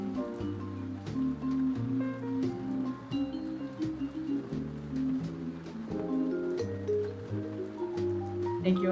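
A relaxed jazz groove of walking bass and melodic chords runs steadily over gentle rain hiss, filling the whole stretch without any voices.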